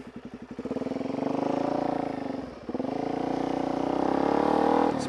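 A motorcycle in a video game revs hard with a throaty, sustained engine note that dips briefly midway and climbs again, loud and close with no talking.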